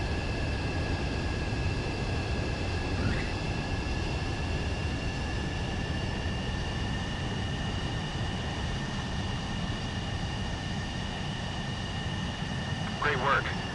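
Fighter jet engine roar in Ace Combat 7: Skies Unknown, a steady broadband rumble with a whining tone held throughout, with radio-style voices heard over it.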